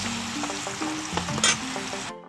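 Breadfruit chips deep fry in hot oil, a dense continuous sizzle and bubbling with a few sharper spatters, close and steady throughout.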